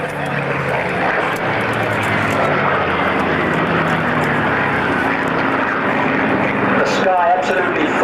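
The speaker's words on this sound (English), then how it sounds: "Sky absolutely full of aircraft, wheeling and diving" Propeller-driven aircraft, including Hawker Hurricane and Supermarine Spitfire fighters, drone loudly and continuously overhead at the Biggin Hill Air Fair, with a commentator talking over the noise.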